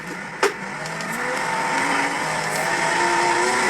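Race cars in an online racing video game roar steadily, engines rising in pitch as they accelerate, with a sharp knock near the start and the whine building louder across the clip.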